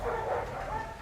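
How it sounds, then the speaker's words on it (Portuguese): Several dogs in a street bark and yip together in a dense, overlapping clamor that carries on without a break. "tem uma cachorrada aqui na minha rua hoje que eu nunca vi uma desgraça dessa"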